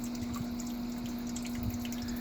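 Water circulating in an aquarium fish tank: a steady hum from a pump with soft bubbling and trickling on top, continuous and close.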